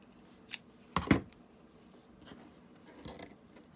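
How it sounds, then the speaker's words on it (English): Scissors cut paper to size for a junk journal, giving a few short crisp snips close by, one small snip and then a louder double cut near the start, followed by faint rustling handling sounds. "I'll cut it to size."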